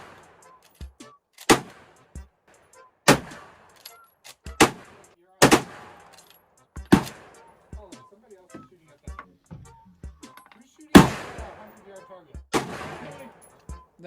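Rifles firing at a busy shooting range, a string of loud sharp cracks spaced every second or so with echoing tails, some close and some farther off, with faint voices between shots.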